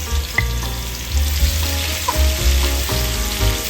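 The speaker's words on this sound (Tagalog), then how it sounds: "Gisahin lang natin ito hanggang maluto yung ating sibuyas at bawang." Onion and garlic sauté in hot oil in a frying pan, a loud, steady sizzle with stirring scrapes running throughout, close and without any voices.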